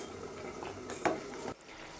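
Payasam being poured into another bowl while cooking a Tamil New Year feast, with pots and utensils clattering: a few soft clinks and scrapes, one sharper metallic clatter midway, over a low kitchen hum and no talking.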